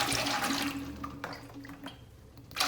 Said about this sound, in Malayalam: ആദ്യം ഈ എണ്ണയെ നമുക്ക് സ്റ്റീലിൻ്റെ വലിയൊരു വെസലിലോട്ട് ഞാൻ ഒഴിച്ചു വെക്കുകയാണ്